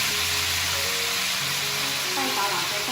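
Pig trotters stir-fried in a wok with five-finger peach root, a steady broadband sizzle and frying hiss running throughout at close range, with faint background tones.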